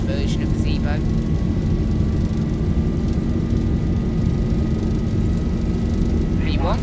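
A Boeing 737-800 takes off from Vancouver in the X-Plane flight simulator, a steady, loud engine roar through the whole roll, with a few brief high chirps near the start and end.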